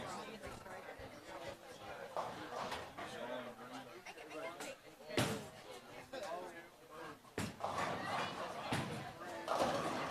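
A bowling ball crashes into all ten pins for a strike at a high school match between Anthony Wayne and Napoleon, a sharp clatter rising out of steady crowd chatter and echoing alley noise, with a commentator talking over it.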